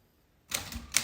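An old-fashioned typewriter clacks with a few sharp, close keystrokes after a moment of silence.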